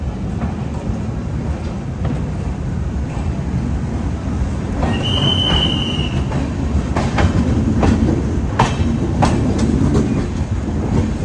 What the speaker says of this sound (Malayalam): നമ്മുടെ കുർള എക്സ്പ്രസ് അങ്ങനെ ഫൈനലി 10 മണി 4 മിനിറ്റ് ആയപ്പോൾ KSR ബംഗളൂരിൽ നിന്ന് പുറപ്പെട്ടു